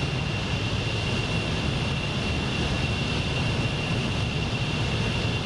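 Concorde engines in Microsoft Flight Simulator 2024: a constant, dense, loud roar with a steady high whine, unbroken and even throughout.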